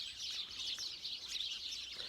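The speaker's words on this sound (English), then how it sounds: "may the bird song of Bealtaine go with you" Outdoors in the west of Ireland at Bealtaine, a busy chorus of birds sings. The high, chirping calls are soft and somewhat distant, steady throughout, with no voices.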